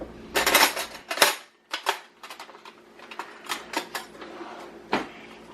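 In a kitchen during sourdough baking, cutlery rattles and clinks in a drawer as a knife is fetched, with a series of sharp metallic clatters and short pauses, close by and with no talk.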